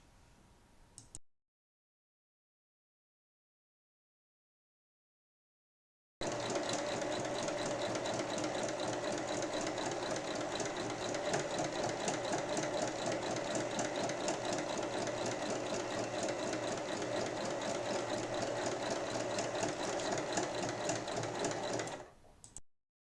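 A sewing machine stitches fabric pieces together in a long, steady whirring run with a fine rapid ticking rhythm, following a short burst and several seconds of silence.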